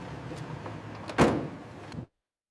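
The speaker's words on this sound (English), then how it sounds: "At the loading dock, pallets roll into a reefer, and doors seal for transport." At a loading dock, the doors of a refrigerated reefer truck are closed after pallets are loaded: rattling movement, then one firm, heavy thud of the door sealing, a short rumble, and sudden silence.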